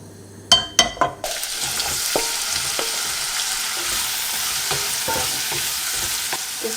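Butter sizzles steadily in a frying pan after a few sharp clicks and knocks of a utensil, a continuous close hiss with occasional small taps and no talking.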